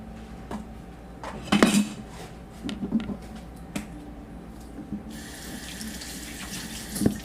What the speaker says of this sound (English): when it comes to like supermarket salmon, I like to give it a rinse